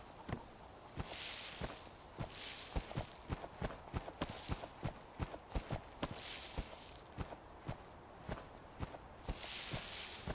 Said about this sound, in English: There, now suddenly my footsteps are back again.